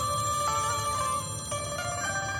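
A telephone rings with a steady electronic bell tone, sounding continuously and fairly loud against a low background hum, with no voices.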